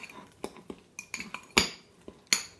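Guacamole being stirred in a bowl with a utensil, a series of sharp irregular clinks and scrapes against the bowl, close and fairly loud with quiet gaps between, no voices.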